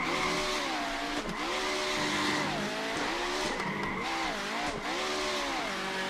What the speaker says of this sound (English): the wheel spin is really obnoxious